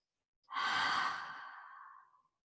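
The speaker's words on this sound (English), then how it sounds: "We're going to take 5 deep breaths and we're going to exhale with an open mouth" One deep breath exhaled through an open mouth in a hatha yoga flow, a loud, close, breathy sigh that starts abruptly and tapers off over about two seconds against silence.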